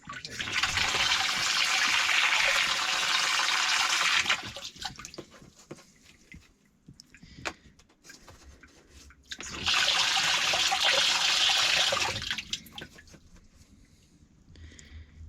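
Water gushes from a hose while a plumber backfills a heating system. There are two steady, loud bursts of rushing flow separated by quieter gurgles, clicks and drips.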